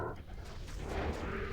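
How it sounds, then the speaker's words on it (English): Corpse explosion spell from a Necromancer in Project Diablo 2 while farming the Chaos Sanctuary: a few muffled, overlapping booms burst over a dense rumble of game effects. "The corpse explosion is just so strong."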